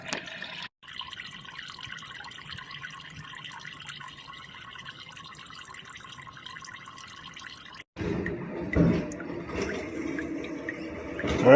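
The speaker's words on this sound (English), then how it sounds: "now I completely drained the coolant from the radiator" Coolant drains from a 2006-2011 Honda Civic radiator in a thin steady trickle with dripping, then a brief gap gives way to a louder, fuller splashing flow.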